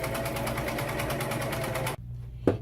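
A sewing machine stitches a tablecloth with mitred corners, a steady, fast mechanical whirring with rapid rhythmic needle ticks that stops abruptly near the end, followed by a soft hum and a brief click.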